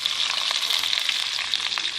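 Chopped onions sizzle in hot oil for a potato and carrot curry, a loud, steady, dense crackle that runs unbroken throughout with no voices.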